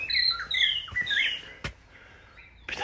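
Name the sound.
birds chirping as they wake up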